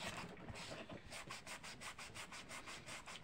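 Wood that has been sanded is rubbed by hand in a steady back-and-forth rhythm of soft, close scratchy strokes.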